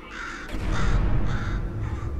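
In the video game Portal 2, a crow caws four times in a harsh, evenly paced series over a low rumbling background hum, with no speech.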